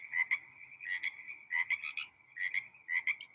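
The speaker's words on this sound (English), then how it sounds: "Frog calls out" A frog croaks at night in West Africa in rhythmic clusters of rapid, raspy pulses, repeating about every second, clear and fairly close with nothing else around.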